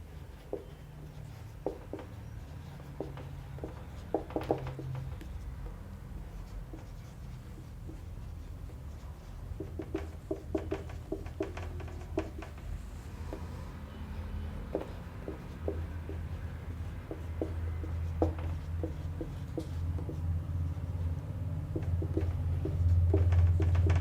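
A teacher writes out the next simple-interest maths question for a seventh-grade class, with intermittent scratchy strokes and taps of chalk or marker that come in short bursts over a low room hum, and no talking.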